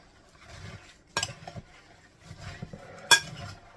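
Nuts being stirred into melted chocolate, a spoon scraping and knocking against the bowl in uneven bursts, with two sharp clinks standing out amid the soft mixing.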